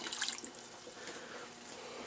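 Water poured from a measuring cup over beans in a jar to cover them, a faint, soft trickle and splash that is brightest at the start and then settles into a quiet, steady flow.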